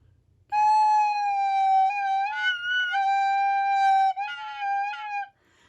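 A recorder sounds note G with its finger holes not fully covered, giving a loud, breathy, whistling tone that wavers and breaks into squeaky, unstable pitches over several seconds, played alone.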